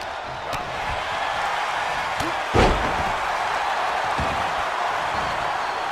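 A wrestler slams down onto the ring mat in a single heavy thud, heard against a steady crowd roar.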